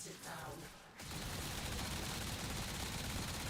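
Sustained automatic gunfire from Warframe erupts after a brief moment and rattles on continuously and loudly to the end.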